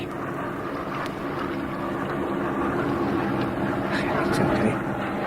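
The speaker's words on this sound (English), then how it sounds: "It's one of our spotter aircraft." A spotter aircraft drones overhead in a wartime radio drama, a steady low engine rumble that holds at a constant level throughout, moderately distant, with no other sounds over it.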